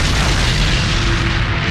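A missile striking a T-72 tank sets off a loud, sustained explosion: a heavy low boom rolling on with broad rumble for nearly two seconds, close and overwhelming.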